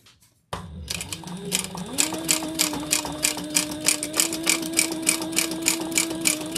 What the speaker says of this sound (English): So Matt is sewing our pocket onto